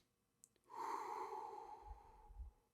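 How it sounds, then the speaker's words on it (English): A person demonstrating a breathing exercise takes a sharp quick inhale, then a long, steady, audible exhale that slowly fades, close and quiet with no talking. "One of my favorite ones, one of the best breathing exercises that you can literally steal from me is"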